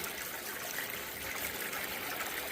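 Steady water streams over a Miller table used for separating gold from black sand, a constant close rushing trickle with no pauses and no voices.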